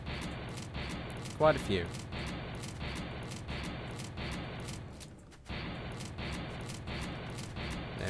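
Shotgun blasts in the factory-building game Factorio, fired in a fast regular series of short sharp bangs with a brief pause midway, under a man's speech.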